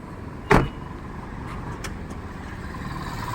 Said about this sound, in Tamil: இப்போ வண்டியில் ரிவர்ஸ் போட்டு